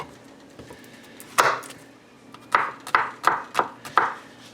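Knife chopping garlic into chunks on a cutting board: one sharp chop, a pause, then five quick crisp strikes in a steady rhythm, close and clear with no talking.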